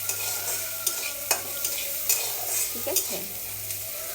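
Food fries with salt in a pan, a steady sizzle broken by a few sharp scrapes and clinks of a spatula stirring, with a brief voice and low background hum.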